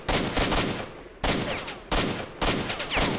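Enemy gunfire in the video game S.T.A.L.K.E.R. cracks out in four loud, evenly spaced bursts, each a sharp volley that trails off before the next.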